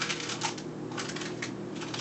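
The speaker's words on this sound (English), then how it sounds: "if I were to take this piece of paper, and if I were to just crumple it up" Paper being crumpled up into a ball, giving steady crackling and rustling that runs the full length at close range, with no talking.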